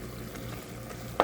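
Potato stew ingredients sauté in a pot, giving a steady low sizzle with soft stirring scrapes and a sharper clink at the end, with no voices.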